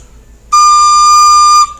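A single high, pure D note on a Chancellor recorder sounds clearly for about a second, steady and close, then stops cleanly.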